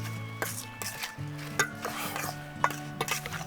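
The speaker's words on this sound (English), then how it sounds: "give all the ingredients a good mix" Mince pie filling ingredients, including sugar and an egg, being stirred in a bowl while camp cooking, with a soft scraping swirl and several light clinks of the spoon against the bowl, a low hum beneath.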